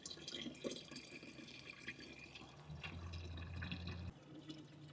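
Water pours steadily into a 275-gallon IBC tote, a continuous close rushing and splashing wash with a low droning hum rising under it for a stretch in the middle, no voices.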